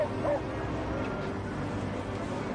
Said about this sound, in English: cadaver dogs had to be used to pinpoint their exact location